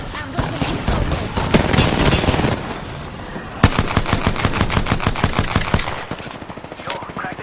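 Automatic gunfire in the Apex Legends video game: loud, close bursts of shots, then a fast, even string of rounds that tapers off near the end.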